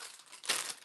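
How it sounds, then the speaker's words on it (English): A plastic pack of baby wipes crinkles and rustles as it is handled up close, with a louder crackling burst midway through, no voices. "And then I have some baby wipes."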